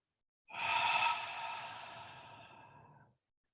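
One long, slow exhale during a calming breathing exercise between workout sets, a soft breathy rush that fades gradually over about two and a half seconds, close to the microphone.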